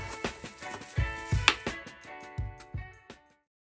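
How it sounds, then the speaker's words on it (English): Knife chopping beets into small cubes on a cutting board for beet and ginger juice, about a dozen crisp, close thuds in an uneven rhythm that trail off into quiet. "we're going to cut our beets into some small cubes"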